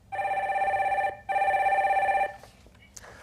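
On a live call-in broadcast line, a phone gives two steady electronic rings with a brief pause between, then goes quiet as faint voices and small noises follow.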